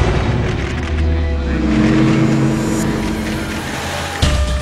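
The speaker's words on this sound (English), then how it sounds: "4 German armored cars race onto the airstrip." Four German armored cars racing onto an airstrip at night: a steady, loud engine roar with low rumble that swells and holds, ending in a sharp thump near the close, with no speech.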